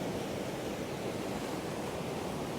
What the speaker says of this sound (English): when the waves get up, they're just coming all the way in